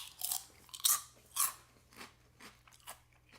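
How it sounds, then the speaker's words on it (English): Crisp crunching on lightly salted corn snacks from a Japanese Christmas snack box, close to the mic, with about six sharp bites and chews spread unevenly over a few seconds and no talking. "Lightly salted, very crunchy though. Very crunchy, very corn."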